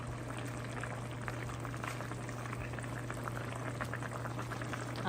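Snapper fish stews in simmering gravy with a steady, dense bubbling and sizzling that runs without a break, close and fairly loud over a low hum.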